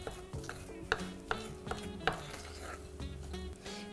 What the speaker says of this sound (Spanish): Termino de mezclar con la cuchara.